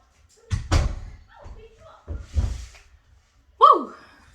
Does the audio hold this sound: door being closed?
yes